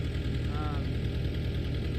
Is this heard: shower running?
no